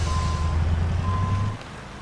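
A truck backs up with its reversing alarm, a steady series of high beeps sounding over a loud, low diesel engine rumble that drops away near the end.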